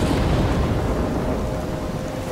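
Thunderstorm in the game Life Is Strange: heavy rain and deep rolling thunder rumble continuously, loud and close, with no voices over it.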